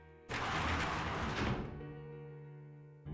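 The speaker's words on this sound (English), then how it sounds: "Did she open the door?" A door opening in the video game Persona 4 Arena Ultimax: a sudden loud broadband burst that holds for about a second, then thins into a low lingering hum with a soft bump at the end.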